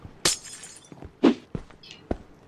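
Glass blocks breaking in the Minecraft video game, several sharp shattering crashes separated by brief pauses, loud and clear with no voice over them.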